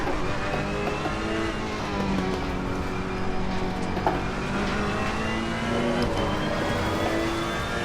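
Engine of a Ferrari 488 GT3 race car in the racing game Assetto Corsa Competizione holds a steady, droning whine with gentle pitch shifts as the car laps the track, constant and moderately loud throughout.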